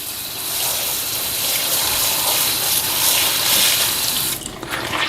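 Water running hard from a sink tap onto a towel, a loud steady gushing rush that shifts slightly near the end as the flow is disturbed, close and without talking.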